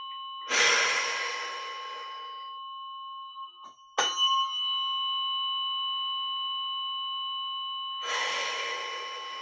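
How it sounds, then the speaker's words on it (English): A slow, deep breath drawn in and released during a guided meditation, soft and close, with two broad airy swells separated by a gap, over a steady ringing bell tone that lingers throughout. "Another breath."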